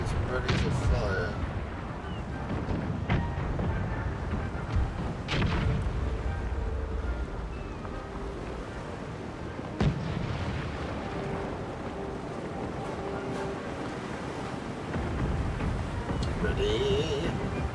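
Cannon fire in Empire: Total War, a naval battle with ships: dull booms ring out at intervals over steady wind and sea noise, with a few sharp reports standing out, moderately loud and continuous throughout.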